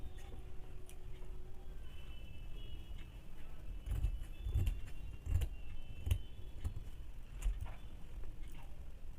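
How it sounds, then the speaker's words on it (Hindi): Scissors cutting cloth for baby panties: a series of faint, short snips and rustles, with the fabric cut along a straight line, quiet and close, and no voices. "अभी मैं आपको काट के बताती हूँ। सबसे पहले तो इसको सीधा में काट लेंगे।"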